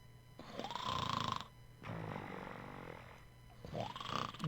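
Deep, guttural snoring from Sandman in the video game The Sand Man: two long rasping snores separated by a quieter breath, rising and falling slowly, close and alone.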